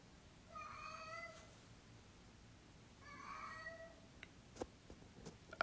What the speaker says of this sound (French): Je vais juste faire taire le chat